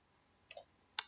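Two crisp computer mouse clicks, close and quiet, about half a second apart in an otherwise silent room.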